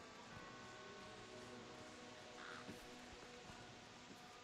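Crows cawing in the video game Dragon's Dogma: Dark Arisen, a few faint scattered caws against a steady ambient outdoor wash with light rustling.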